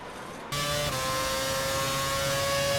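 A Formula 1 car engine at the Montreal circuit in a racing video game (Canada 2011) drones steadily and loudly, stepping up in pitch and intensity after a brief quieter start, with sustained whining tones and no talk.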